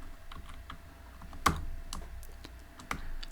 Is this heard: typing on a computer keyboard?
yes